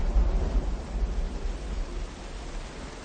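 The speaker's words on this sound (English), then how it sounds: "we got some lightning here" Deep rolling thunder from lightning in the game Myst V: End of Ages, a broad low rumble that swells at first and slowly fades, with no talking.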